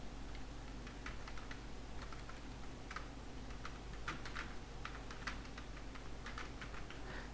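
Steady typing on a computer keyboard while entering text into a text box in MS Word, an irregular run of light plastic key clicks over a faint background hum, with no voices.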